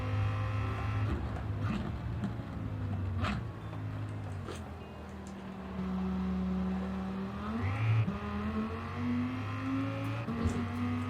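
Gran Turismo race car engine droning steadily with rising and falling revs through gear changes, a sustained loud harmonic roar with a sharp upshift near the end.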